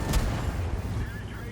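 A Caernarvon AX tank cannon fires in a video game, one heavy boom at the start followed by a loud rumbling tail, over a constant engine-like drone, with someone talking throughout.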